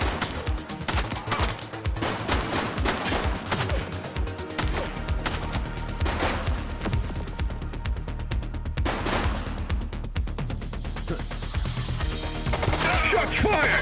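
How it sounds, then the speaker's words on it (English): Rapid bursts of gunfire in the police game The Precinct, with dense repeated shots crackling over a loud, busy game soundtrack with music and effects throughout. "Shots fired!"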